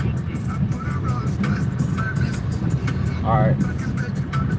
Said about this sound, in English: Now I gotta drive all slow